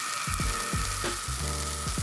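Steak fajitas sizzle loudly in a skillet at a campsite, a steady close frying hiss with popping bursts and brief low scrapes throughout.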